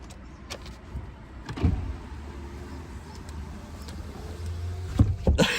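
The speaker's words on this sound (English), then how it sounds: "Let me close these windows and lock the car." Power windows on a parked car whir shut, followed by several clunks and clicks from the locks and door, heard close over quiet outdoor ambience.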